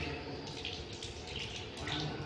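Water pouring and splashing during foot washing for ablution, a continuous close running flow with shifting splashes as it strikes the feet, fairly quiet and uninterrupted, with no speech over it.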